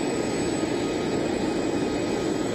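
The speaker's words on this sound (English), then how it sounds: "What's your impression of the plane as it rolls towards you?" Air Force Two taxiing on an airfield, a loud, steady jet engine roar and whine that stays close and constant throughout, no talking.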